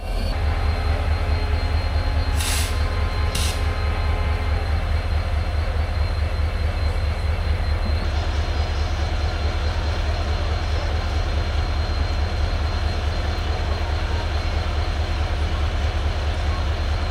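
A WDP-4 diesel locomotive is coupled to the Katihar Siliguri Express at Siliguri Junction. The engine gives off a loud, steady, deep throb and rumble the whole time, with two brief sharp hisses early on.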